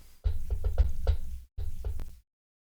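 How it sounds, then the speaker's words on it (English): Knuckles rapping on a wooden desk, a quick close burst of about five knocks, a short pause, then two or three more, dry and distinct with no talk. "I just knocked on wood too because I'm sitting at a wooden desk"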